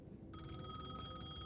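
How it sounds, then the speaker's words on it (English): An old-style telephone bell rings in the video game Alan Wake 2, a continuous rattling trill that cuts in abruptly after a brief quiet moment and carries on steadily at a moderate level. "Right, Alan, answer that phone,"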